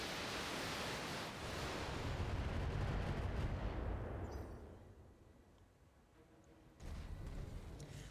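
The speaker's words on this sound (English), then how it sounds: "I'll shoot the Jenner with my LRMs." Long-range missiles are fired at a Jenner mech in the BattleTech video game, a dense rumbling roar of launches and impacts that swells, fades to a low hiss, then surges again near the end.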